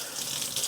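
Water pours from a kitchen sink tap as broccoli is rinsed, a brief, close, steady gush with no talking.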